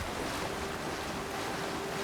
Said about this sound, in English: There's some momentum on the waves.